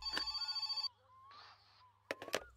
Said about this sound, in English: Ooh, another phone call.